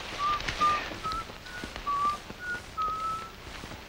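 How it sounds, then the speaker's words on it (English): Someone whistles Yankee Doodle as a signal in a 1942 wartime drama, sounding as a thin, faint melody of short separate notes over a hissy background, with no speech. "somebody's whistling Yankee Doodle"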